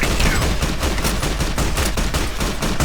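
Rapid gunfire in the video game Fallout: Tale of Two Wastelands during the battle for Hoover Dam, a dense, loud barrage of overlapping shots with sharp repeated cracks throughout and no talking.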